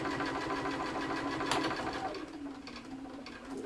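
A sewing machine runs continuously and stitches around the edge of a zipped fabric pouch, giving a steady, close, mechanical whir with a faint rhythmic knock. No voices.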